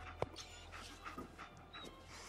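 Dogmeat, the dog companion in Fallout 4, panting softly with a short whimper and faint yips over a low game hum, quiet and close.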